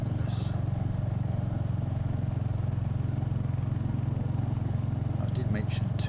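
A Triumph Hurricane motorcycle being ridden gives a steady, loud engine drone with constant low throb throughout, joined by brief wind buffeting and clatter near the end.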